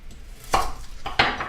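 A large onion is sliced with a sharp kitchen knife on a cutting board, giving two distinct close chopping thuds as the blade strikes through the onion and hits the board.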